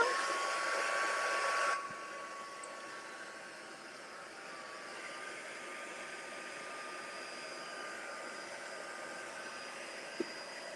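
A hair dryer blows on a watercolor painting, loud at first, then dropping after a couple of seconds to a steadier, quieter whir that runs on without pause.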